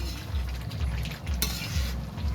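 Meat curry stirred in a pot over a wood fire, with a spoon scraping and sloshing through thick gravy in a steady rhythm over a low bubbling simmer, close and continuous.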